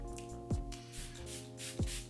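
Two short misty spritzes of Smashbox Photo Finish Primer Water sprayed onto the face, spaced about a second apart, close and soft over a faint steady background hum.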